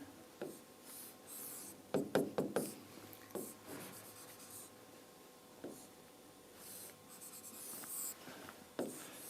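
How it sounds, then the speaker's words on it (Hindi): Physics questions are written on a classroom board, heard as intermittent scratchy strokes in clusters spread across several seconds with gaps between them and no speech. "1-2 क्वेश्चन और लिख लेते हैं"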